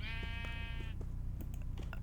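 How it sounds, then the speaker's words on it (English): A Minecraft sheep bleats once when struck with an enchanted wooden plank, a short wavering baa, followed by light clicks like keyboard typing. "if I were to hit this sheep with this enchanted wooden plank"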